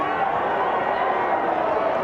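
A rugby league crowd at a junior Kiwis versus Australia match roars in a steady, dense wash of cheering and chatter from a large stadium audience, holding level throughout with a commentator's voice over it.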